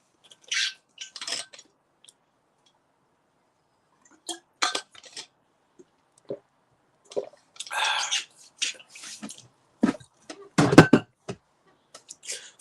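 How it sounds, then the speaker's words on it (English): Someone takes a swig of water at close range, with scattered clinks of a glass, wet gulps and swallowing sounds broken by silent pauses, busiest toward the end. "Swig of water."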